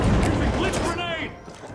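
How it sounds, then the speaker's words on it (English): Blitz grenade going off in the shooter game The Finals: a loud, dense blast with a rumbling low end that quickly thins into fading crackle and ringing, close by amid game noise. "Blitz grenade."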